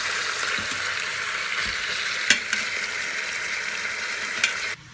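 Meat sizzles and fries while browning in an Instant Pot on sauté, a steady close hiss with a few soft clicks and bumps, no voices, cutting off abruptly at the end.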